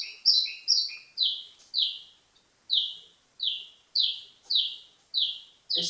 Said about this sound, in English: There's Bridgie the bird.